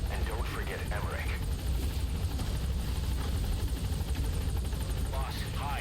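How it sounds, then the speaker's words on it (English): A military helicopter lands in the Metal Gear Solid 5 video game, its loud, steady rotor and engine roar filling the whole stretch, with radio-style voices and chirpy game effects layered over it. "Alright, the chopper's touching down."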